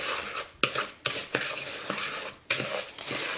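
Sugar being mixed into a key lime pie crust in a bowl, with repeated scraping and stirring strokes and a few sharp utensil knocks against the bowl, close and fairly loud, with no talking.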